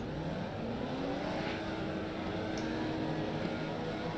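Race cars in a Formula Vee racing video game at Daytona, a steady, moderately quiet engine drone from a six-car field rolling together, with no sharp passes.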